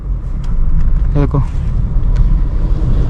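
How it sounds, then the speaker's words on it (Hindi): A manual car's engine revs steadily in first gear as the clutch is let out, a continuous low rumble running throughout with someone talking over it. "देखो पहले एक्सीलेट करोगे देन क्लच रिलीज करोगे।"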